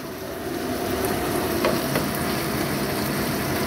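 Chicken popcorn pieces frying in a pan give a steady, even crackling sizzle close by. The sound runs throughout with no voices.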